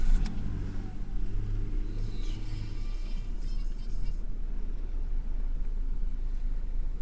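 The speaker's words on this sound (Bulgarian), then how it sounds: "Автомобилът си пали чудесно и се поддържа необходимите обороти температура." A cold Renault Clio III starts up and settles into a steady idle, a low, even engine rumble with a brief higher-pitched whir early on, heard close with no one talking.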